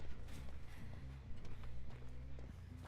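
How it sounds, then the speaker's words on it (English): Heavy footsteps of the killer in the Dead by Daylight video game, thudding steadily under a dense bed of game music and ambient noise. "Dude, it's the killer's footsteps."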